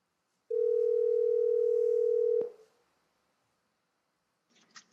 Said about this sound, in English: I'm going to tap on the phone app, and I'm going to call Deidre, who's a colleague on the watch team.